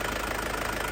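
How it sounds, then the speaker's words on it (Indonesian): Warm diesel engine of a 2001 Isuzu Panther LS with automatic transmission running steadily at idle, a continuous close, even rumble with a faint knocking texture throughout. "mesin sudah panas ya"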